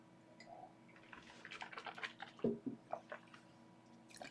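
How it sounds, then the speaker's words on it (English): Someone drinking water at a tabletop game review stream, with a few soft, close sips and gulps and light wet swallowing sounds in the middle of an otherwise quiet moment. "I'm just going to drink water."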